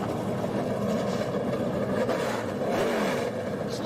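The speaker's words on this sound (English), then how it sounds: "Drivers, start your engines" NASCAR race car engines fire up and rev together, a dense loud mechanical roar with rising pitch sweeps and no pauses.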